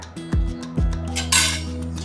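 Clinking of dishes: a bhakri flatbread is set down onto a plate in a home kitchen, with two sharp metallic clinks and rings close by, then a brief brushing noise, no voices.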